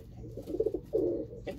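A pigeon displays to its mirror reflection with low, rolling coos, first in short pulses and then in one longer swelling coo, heard close up with no voices.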